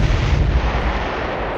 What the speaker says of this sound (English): Let's go ahead and see if we can bomb the rest of these guys out of here.